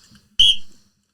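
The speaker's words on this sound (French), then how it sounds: "L'arbitre peut siffler s'il trouve que l'avocat va trop loin." A referee's whistle in a mock trial debating a film gives one sharp, loud blast of about half a second that fades out, with faint murmur just before it.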